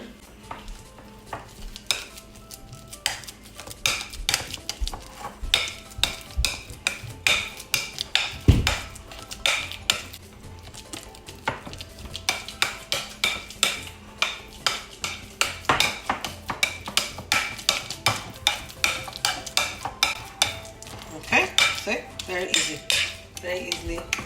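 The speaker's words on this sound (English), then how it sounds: "banana is very ripe, so it's easy to mash. So you mash your banana." Five very ripe bananas mashed in a bowl for banana bread, producing steady repeated scraping and clinking of utensil against the bowl, close and fairly loud, with a dense rhythmic run of strokes lasting throughout.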